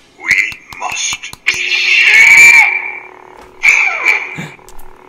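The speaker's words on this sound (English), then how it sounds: "He did his weird yell." A Yoda Force Link action figure from Star Wars The Last Jedi plays a recorded yell, a loud strained cry lasting over a second, then a shorter cry, after sharp clicks, close and alone.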